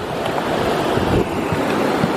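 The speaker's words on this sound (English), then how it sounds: "we are crossing, that's right, ladies and gentlemen, the Pecos River" The Pecos River, near its headwaters, rushes past a hiking trail crossing in the Pecos Wilderness as a steady, dense roar of flowing water, close and loud, with no voices.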